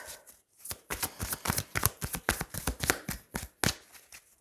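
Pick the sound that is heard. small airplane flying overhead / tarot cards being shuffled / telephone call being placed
tarot cards being shuffled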